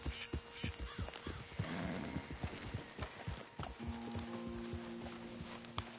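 Horse hooves clip-clop in a steady walking rhythm as a rider travels in Red Dead Redemption 2, with a brief whinny and soft ambient noise around them.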